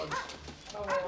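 Several dogs yip and bark in a cramped apartment during a film scene, with short bursts of yapping and whimpering mixed under speech.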